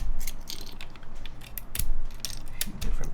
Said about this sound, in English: just gotta get the screws off again